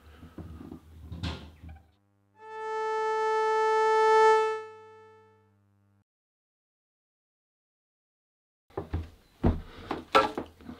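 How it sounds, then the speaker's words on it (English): Open A string bowed on a violin fitted with a bridge and played without vibrato, a single bright sustained tone of about three seconds that swells and then decays to silence, framed by brief handling noises before and after. "I'm going to give you an open A, just so there's no vibrato on me mucking about with the sound."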